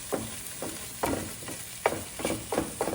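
Repeated scraping and stirring strokes of a utensil pushing tofu stuck to the bottom of a hot pan while noodles are being made, about five rhythmic scrapes with a light sizzle, close and moderately loud, no talk.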